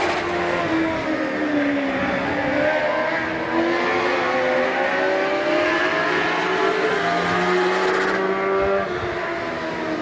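Race cars roar continuously around the Midvale Speedway oval, engines droning loud and close with shifting pitch as cars pass and jostle, a steady wall of motor noise throughout.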